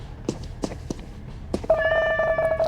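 A cartoonish cat meows in a video game, a steady tonal mew with clear harmonics lasting about a second, preceded by a few soft taps and clicks against a quiet background.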